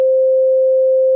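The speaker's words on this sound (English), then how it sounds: "as far as I can tell, it's a sine wave. It just sounds like a smooth tone." A pure, continuous sine-wave reference tone pitched on the note C holds steady and smooth at an even loudness for just over a second, with no other sound.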